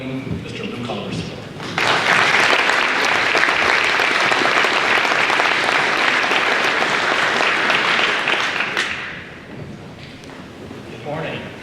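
An audience at a high school Veterans Day program breaks into sustained, loud applause for an arriving speaker, the clapping holding steady for several seconds before tapering off, with a voice briefly audible at the start.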